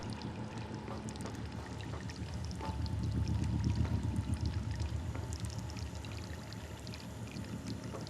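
Water running and splashing from a leak in the video game Prey, a steady pouring rush that swells louder midway, with no talk.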